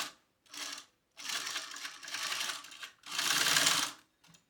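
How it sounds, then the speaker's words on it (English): A sewing machine runs a reinforcement seam along a D-ring on a wallet, stitching in four short bursts of rapid mechanical whirring separated by brief pauses, close and fairly quiet. "go back and sew a second seam right along where you added that D-ring for reinforcement"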